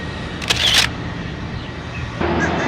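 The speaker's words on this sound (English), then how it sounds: "let me take a selfie" A camera shutter fires once in a quick burst with a short electronic whir, loud and close against steady street and traffic noise outdoors in St. Petersburg, Florida, at the start of a cycling trail.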